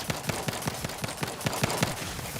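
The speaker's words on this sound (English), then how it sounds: "This gun does so much damage, dude." Rapid gunfire from a high-damage gun in the video game Outer Worlds 2, a steady automatic burst of about a dozen evenly spaced sharp shots, close and loud, with no talking over it.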